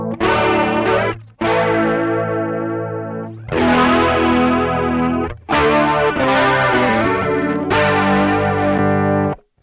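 Guitar chords played through a Behringer Chorus Symphony chorus pedal with buffered bypass, rich swirling shimmer on each strum, loud and alone across several sustained phrases.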